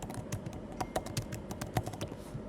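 Rapid typing on a computer keyboard while writing web code, with a steady run of close, crisp key clicks that continue throughout at an uneven pace.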